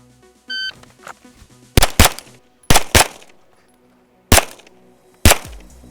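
Four sharp gunshots ring out on an outdoor shooting range as a shooter fires at hard steel targets, the first two and third coming in quick pairs, then two single loud reports, with a short electronic beep from a shot timer at the start.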